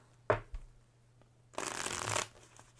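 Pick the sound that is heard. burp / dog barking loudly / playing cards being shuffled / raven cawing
playing cards being shuffled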